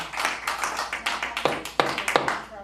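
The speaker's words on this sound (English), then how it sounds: "clapping in the thing is wrong" Applause from an audience at a city commission meeting right after a vote carries, a brief burst of scattered hand claps with a few sharper individual claps standing out, fairly close and fading within a few seconds.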